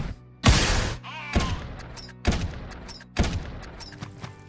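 Enemy AI gunfire dumping a magazine in the game Quasimorph, four heavy booming bursts spaced about a second apart, each with a sharp attack and a ringing tail, loud and close with no talk.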